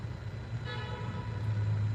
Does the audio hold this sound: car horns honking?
yes